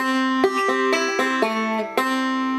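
Bright plucked banjo notes on the first fret of the second string, several in a row with sharp attacks and ringing overtones, played clearly and alone.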